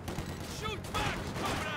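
Gunfire in the World War II strategy game Company of Heroes 2 during a Soviet defense of Moscow, a dense crackle of rifle and machine-gun shots under a shouted voice.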